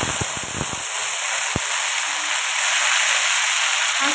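Onion, tomato, ginger and garlic paste hitting a hot pan for prawn malai curry: a steady, loud sizzling hiss fills the whole clip after a few sharp clatters at the start.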